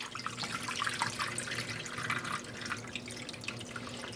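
Water trickles and drips steadily as it drains from dyed wool roving in a dyepot, a faint, continuous splashing with scattered drops and no voices.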